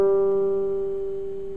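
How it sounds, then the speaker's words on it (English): A single open G string plucked on a guitar rings out as one steady, clear note with faint harmonics, decaying slowly and heard alone at close range. "the G string, which sounds like this."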